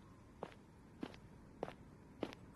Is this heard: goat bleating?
no